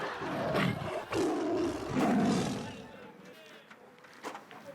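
A tiger roars loudly and close, with rough, growling bursts in a wild-animal handler setting, then trails off into quieter rumbling and rustle.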